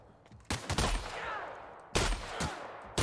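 Shotgun blasts in The Outer Worlds video game, three sharp loud reports spaced about a second apart, each bursting out then trailing into a rumbling echo.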